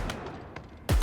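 Scrap cannon shots in the video game Halo Infinite, a few sharp blasts spaced out over a second, followed by a loud, booming impact at the end.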